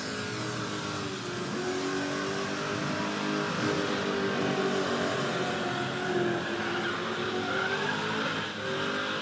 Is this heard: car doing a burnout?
yes